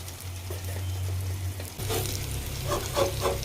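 An egg omelette fries over browned onions on a medium flame with coriander added, giving a steady, close sizzle throughout, with a few soft clinks and stirring sounds near the end.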